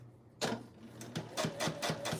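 A home sewing machine used for quilting runs in short rhythmic bursts of mechanical clatter and whirring, with a regular pulsing beat close up, punctuated by brief pauses and a faint steady hum beneath.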